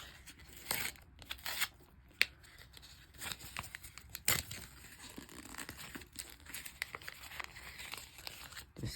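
Scissors snip open a Boboiboy Galaxy Pek Adiwira card pack, with crisp cuts and crinkling, tearing foil. The sounds are close and come in irregular bursts against a quiet background.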